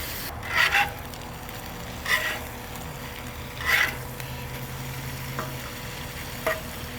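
Leftover pulled pork sizzles on a flat-top griddle, crisping and caramelizing with a steady hiss, punctuated by several short scraping stirs of a spatula.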